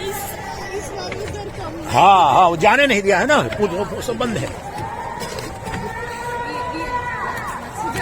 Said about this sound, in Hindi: सबसे ज्यादा श्रद्धालुओं की भीड़ यही है।